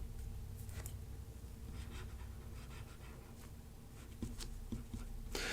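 Stylus writing on a Boox Go 10.3 e-ink tablet with the ballpoint pen tool, quiet intermittent scratchy strokes and taps against a low hum, no talk.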